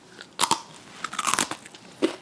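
Leftover pork belly with a crispy crust gets bitten, producing loud, close crunches in a couple of quick bursts, then a last crisp bite after a short pause. No one speaks.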